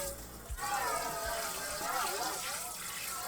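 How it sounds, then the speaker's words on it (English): Tap water runs into a bowl as it is rinsed at a kitchen sink, splashing and gurgling steadily with a couple of soft knocks at the start. "I'm gonna rinse out that bowl"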